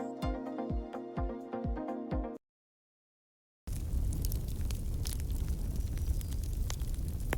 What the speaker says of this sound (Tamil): தீ நல்லா எரிஞ்சிட்ருக்கு